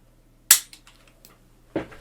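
A toy disc launcher on a Miniforce Super Dino Power Tyranno transforming toy fires with a sharp plastic snap, followed by small clatters and a second click-clack near the end, close and isolated.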